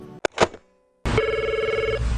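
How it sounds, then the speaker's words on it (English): An old landline telephone bell rings at Freddy's Pizzeria in Long Branch, a short burst and a brief ring, a pause of silence, then a loud sustained trilling ring that carries on steadily to the end. "At Freddy's Pizzeria in Long Branch, the phone seems to never stop ringing"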